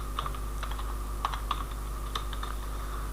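Code being typed on a computer keyboard during an ASP.NET MVC tutorial, with quick irregular key clicks and a few sharper strikes over a steady low electrical hum, close and moderately loud.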